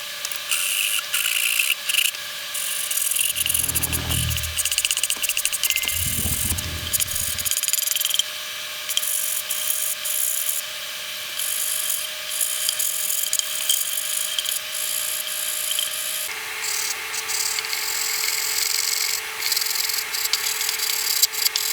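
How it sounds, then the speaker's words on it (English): Sanding the leading edge of a large 47% scale Pitts Special model airplane upper wing: a steady, long rasping rub with a few louder low strokes early on, continuing alone without talk. "then we sand it at a different angle than we did the rest of the leading edge"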